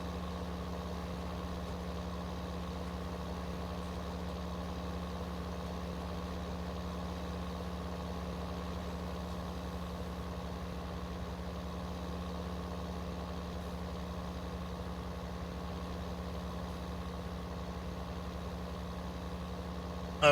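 A tractor engine idles steadily in a farming simulator on a South Island farm map, a low, even rumble with constant tonal hum and no change in revs for twenty seconds.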